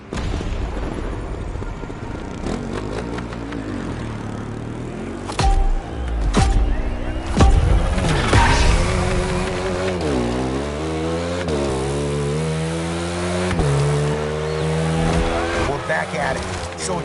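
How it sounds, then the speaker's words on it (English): A motorbike engine revs and roars in the Motorfest racing game, the pitch rising and falling through sweeping surges, with a loud burst midway and a sustained drone under game sounds. "You get on that bike, driver, and you give me a two-wheeled concerto"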